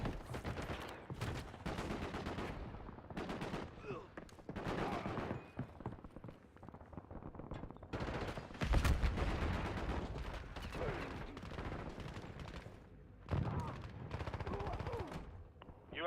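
Rapid bursts of video game gunfire, heavy and continuous, with louder clustered shots throughout alongside in-game voice callouts.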